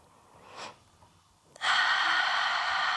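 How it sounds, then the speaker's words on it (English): A deep breath during yoga: a short faint intake of air, then a long steady breathy exhale at close range that continues to the end. "Inhale deeply. Exhale."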